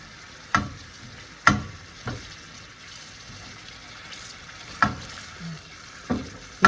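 Ground beef sizzles steadily in a pan while a utensil stirs it, with sharp scraping knocks spaced every second or so over the constant frying hiss.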